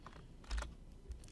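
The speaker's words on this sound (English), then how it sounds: "I'm going to do Control X on my keyboard" A few quiet keystrokes on a computer keyboard, a short cluster of soft clicks followed by one more tap, close and faint with no talking.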